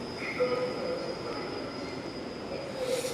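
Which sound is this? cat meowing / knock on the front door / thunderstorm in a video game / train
train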